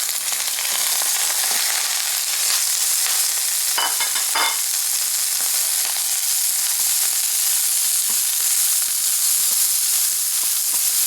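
Broccoli hits a pan of hot oil for a stir fry and sizzles loudly and steadily, with a few sharper crackles and stirring scrapes partway through.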